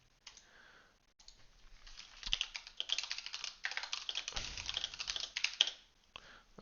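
Fingers type steadily on a computer keyboard close by, in a dense run of rapid clicky keystrokes that starts after a short quiet pause and then slows into a few final taps, with no one speaking.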